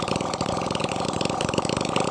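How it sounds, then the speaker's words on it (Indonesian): Honda GN5 motorcycle engine, freshly fitted with a new 0.25 oversize piston, running with no exhaust pipe: a loud, raw, rapid putter that stays steady and close throughout. "ini kita nyalakan mesinnya tanpa menggunakan knalpot dulu"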